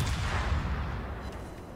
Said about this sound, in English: we're shooting at Satsuma because it's the only thing we can shoot at